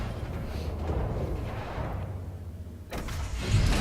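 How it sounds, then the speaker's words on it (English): Spaceship engines engage in the Elite: Dangerous space game as a steady low rumbling drone. A brief dip is followed by a louder surge of thrust near the end. "Ship released. Engines engaged. Landing gear retracted."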